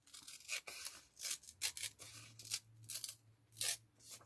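Journal pages being torn out by hand, a run of rough ripping and rustling paper bursts close up, irregular and fairly loud, with pauses between pulls.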